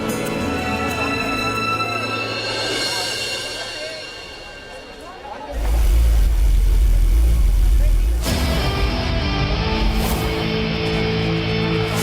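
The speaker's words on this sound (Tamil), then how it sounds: "கொஞ்ச நேரம் நான் வண்டியை பார்க் பண்ணிட்டு வரேன்" A car pulls away to park, its engine rumbling low and steady with a sudden louder surge partway through, heard over a background music score in a Tamil TV serial scene.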